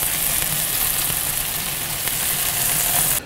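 Honey mustard basted pork belly sizzling on a Kamado Joe grill, a steady, dense hiss of frying fat that fills the whole stretch and cuts off abruptly at the end.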